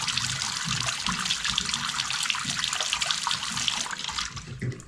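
Water rushes steadily through pipes and fittings as a house heating system is refilled and the toilets fill, a constant hissing splash with no talk over it.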